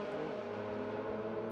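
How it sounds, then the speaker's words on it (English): A white Porsche race car accelerates up a hill on the COTA circuit, its engine a steady, sustained drone without a break, moderately loud, with no voices. "Catching this white Porsche come up the hill here."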